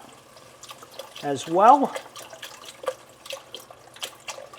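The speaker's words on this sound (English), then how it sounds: "Now we're going to add our stock, which again, I use unsalted, 3 cups. That's going to go in the pot" Three cups of unsalted chicken stock pour into a cooking pot with a brief liquid rush, while a person talks over the kitchen sounds.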